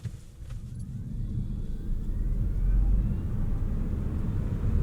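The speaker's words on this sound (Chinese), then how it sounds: "极氪009的0到100加速体验" A 2025 Zeekr 009 electric MPV in Sport Mode accelerates from 0 to 100 km/h, a low cabin rumble of tyre and road noise building and swelling steadily, heard from inside without speech.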